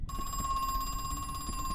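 An in-game telephone rings in the horror game Crow Country, a bright steady electronic bell tone pulsing continuously over a low ambient hum, close and clear.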